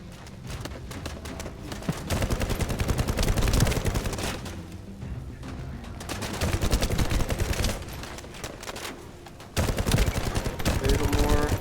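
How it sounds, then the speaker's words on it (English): Rapid sustained gunfire from the video game The First Descendant, dense bursts of shooting rattling continuously and loudly with brief gaps, layered with game effects and occasional voice. "there is still somebody shooting us"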